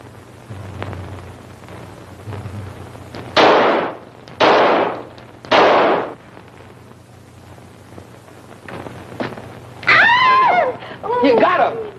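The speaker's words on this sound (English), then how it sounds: "All right, Herbie, show him how we shoot." Gunshot sound effects in an old-time radio drama: three loud, broad blasts spaced about a second apart, close and punchy, with excited voices of actors speaking before and after.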